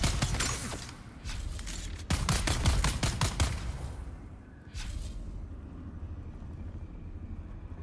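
Rapid Gatling gun fire in the Dune video game, a loud rattling burst of dense shots over a rumbling background, trailing off into a lower drone.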